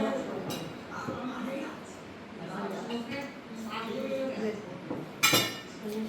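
Plates clinking in a household kitchen, sparse light clinks and one sharp clatter near the end, all under steady conversation.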